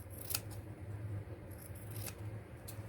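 Scissors make a few crisp, close snips, trimming a thin sliver of paper while making a spring journal, with quiet handling between cuts.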